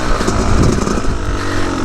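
A 2003 Yamaha YZ250 two-stroke dirt bike engine runs steadily and loudly up close, a continuous buzzing drone with slight fluctuations in pitch, used as a woods bike.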